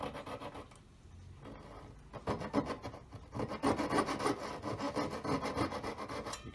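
A hand saw blade rasps through metal while a square four-claw collet is being made, a steady back-and-forth grinding that starts quieter and grows louder and more rhythmic, close up with no talking.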